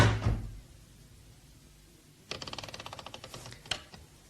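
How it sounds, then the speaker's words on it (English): A door swings shut with a soft thud, then a latch and lock mechanism ratchets in a quick run of small metallic clicks, close and fairly quiet, with no one speaking. "As soon as you close that door."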